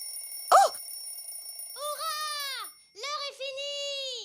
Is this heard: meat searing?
no